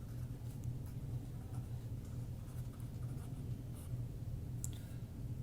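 A pen scratching steadily across paper while a maths problem is worked out, faint and continuous over a low, rumbling room and traffic hum; no talking.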